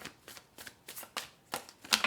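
A deck of tarot cards being shuffled by hand in a run of quick riffling bursts, close and fairly quiet, with a brighter snap of cards near the end.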